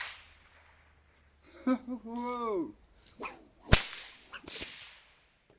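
A six-foot whip cracks several times in sharp, loud snaps, the cracks separated by short pauses, and a voice exclaims briefly among them.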